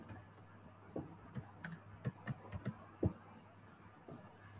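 Card details are tapped out on a computer keyboard, a scattered run of soft, close keystrokes with irregular pauses in a quiet room.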